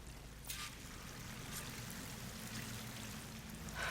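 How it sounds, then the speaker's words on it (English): Steady rushing flow of a waterfall in the game Horizon Forbidden West, a continuous broad wash of falling water heard from a short distance with no talking over it. "That waterfall must be coming from somewhere."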